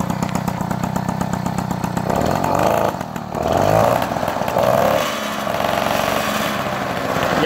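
An old engine, a little rusty, runs steadily and then revs up in swells as the throttle opens, loud and close, with a rough vibrating buzz.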